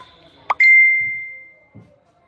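A phone message notification plays a bright two-note ding that rings out as a clear sustained tone and fades over about a second, alone in a quiet room with faint thumps nearby.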